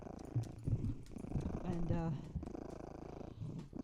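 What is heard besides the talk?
cat purring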